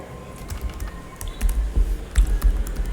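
Fingers typing on a computer keyboard, a quick irregular run of light key clicks with small pauses between bursts, close and clear with no voices.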